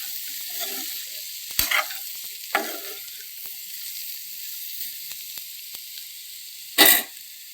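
Bitter gourd (kakarakaya) fry sizzles softly in a pan over a low flame, a steady frying hiss broken by a few scraping stirs, with one sharp loud scrape near the end.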